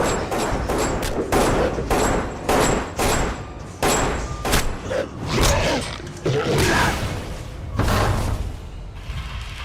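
Gunshots ring out in a Silent Hill Revelation movie scene, a rapid series of loud sharp bangs in irregular bursts, mixed with thuds and other action sounds.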